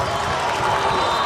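A football crowd at a high school game between Millard North and Westside roars steadily behind the Mustang team, a dense, continuous wash of cheering with no clear breaks.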